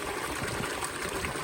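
Water gushing steadily into a container that supplies a small herd of grazing mini cows on pasture, a continuous close rushing flow with no breaks.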